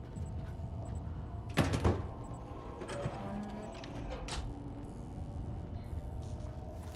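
In the video game Alan Wake II, a door opens with a brief, loud knock-and-creak burst around the middle, followed by faint softer clunks over a low, steady ambient hum.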